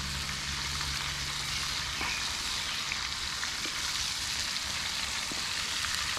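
Catfish sizzling steadily in a pan at a solo truck campsite, a dense, even crackle of frying oil that runs without a break, close and fairly loud, with no talking.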